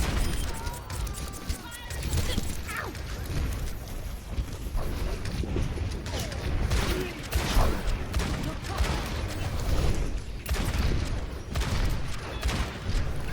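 Overwatch gunfire from a hitscan hero such as Ashe or Widowmaker, with rapid cracking shots and game effects in a dense, busy mix that runs on under a talking voice.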